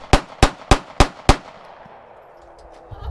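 Five sharp baton round shots fired in quick, evenly spaced succession at a shooting range, each a loud crack with a short ringing tail, followed by a quiet lull.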